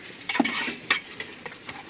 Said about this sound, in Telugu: బాగా కలుపుకున్నాం ఫ్రెండ్స్